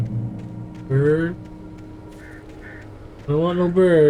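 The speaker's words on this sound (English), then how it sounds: "Bird." Birds attack in the Alan Wake video game, giving two harsh, raspy cawing bursts, one near the start and a longer one toward the end, over a low background rumble.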